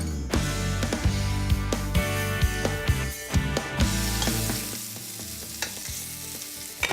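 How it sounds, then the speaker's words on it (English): A strip loin steak fries in a pan with a loud, continuous sizzle, broken by repeated sharp clanks and scrapes of utensils against the pan, with no talking. "strip loin steak underway in the pan"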